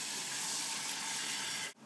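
Eggs go into a hot pan beside frying burgers and set off a steady, bright sizzling hiss that holds evenly before cutting off abruptly near the end.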